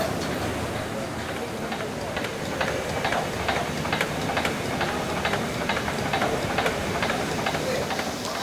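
Steam hisses steadily from old working machinery lubricated with oil, a broad continuous rush with faint rhythmic knocking pulses, while people talk over it nearby.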